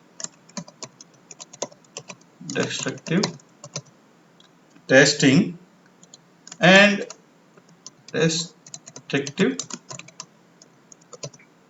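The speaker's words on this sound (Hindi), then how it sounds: "सो मैं यहाँ पर एक एक करके टाइपिंग करूंगा" Keyboard typing on a computer, with dense clicking keystrokes running throughout and bursts of talk from a man interleaved between the typing runs.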